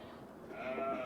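A goat bleats once, a short, close, wavering cry that rises in strength toward its end.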